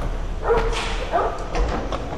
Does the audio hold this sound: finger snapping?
no